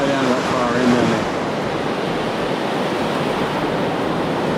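An ocean wave rolls through at a surf break off a Maldives resort, giving a loud, steady roar of surf with heavy wind rumble on the microphone.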